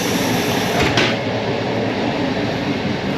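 Polish TLK Kormoran passenger train rolling along the rails, a steady loud rumble of wheels and carriage noise with faint clatter, heard from inside the car with no voices.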